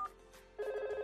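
Simulated telephone ring in Cisco Packet Tracer software, a short electronic tone that breaks off and then sounds again as a steady ringing, clear and alone.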